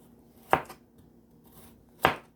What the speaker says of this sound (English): I'm just gonna cut these up, folks, you know, as small as I can